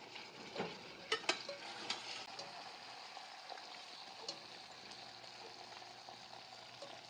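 Boiled mutton pieces fry in a little oil for biryani, a low steady sizzle with occasional sharper pops and stirring scrapes near the start, moderately quiet and without talk.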